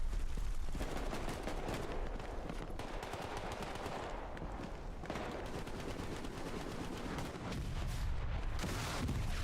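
Rocket launchers fire again and again in a Team Fortress 2 match, with dense, overlapping explosions and gunfire bursting loudly and continuously throughout.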